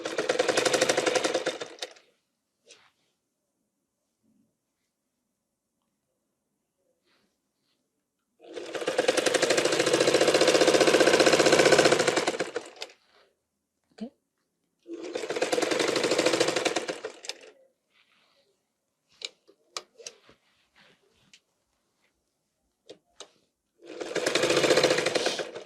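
A sewing machine stitches a petticoat seam in three long, loud whirring bursts, with near silence and a few faint clicks between runs and a final burst starting at the end.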